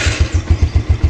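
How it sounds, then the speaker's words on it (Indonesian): A 2008 Yamaha New Vega R motorcycle idles without throttle after starting, its single engine thumping in a steady, even pulse close to the mic, with no voices. "kalau mau dengar suara mesinnya tuh, saya starter tapi nggak pakai digas"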